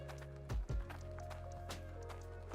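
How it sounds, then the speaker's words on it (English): Crunching footsteps in the video game Hydroneer land as a few distinct, unevenly spaced thuds over a low steady hum, fairly quiet and without talk. "Is that just me crunching footsteps?"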